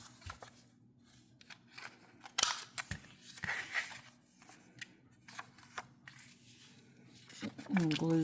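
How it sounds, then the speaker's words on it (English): A paper scrap is cut with scissors for ephemera crafting, producing a series of close, crisp snips and rustles of varying loudness, with faint voice at the end. "I'm going to cut this piece back down a little bit here"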